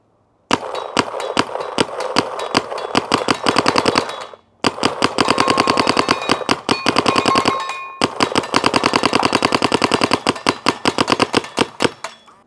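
Paintball marker fitted with a Carbon CRBN Nano barrel fires long, rapid strings of sharp shots, loud and close, in three bursts broken by brief pauses.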